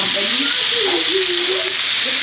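Blue swimmer crabs frying in melting butter in a casserole pan with vegetables give off a steady, fairly loud sizzle with a constant hiss and faint bubbling throughout.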